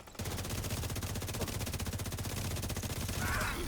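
Rapid video game gunfire, a dense stream of fast repeating shots at a steady rhythm that carries on for the whole stretch, loud and sustained, with bursts layered over a busy low rumble.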